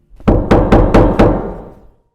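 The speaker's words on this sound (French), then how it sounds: "un jour, vous entendez à nouveau toquer à votre porte." Five loud, evenly spaced knocks on a door, close and resonant, each blow ringing briefly before the next, with no voices.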